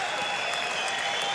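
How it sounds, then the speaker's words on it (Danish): A boxing crowd gives steady, dense applause to Danish boxer Torben Keller in the ring, a continuous clapping wash at moderate loudness without a pause. "Klapsalver op mod Keller i ringen"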